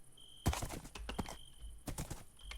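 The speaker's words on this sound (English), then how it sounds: "I'm already having problems with my horse." A Minecraft horse clops along in a game, with quick hoof taps in uneven bursts and a brief whinny, fairly quiet with no talking over it.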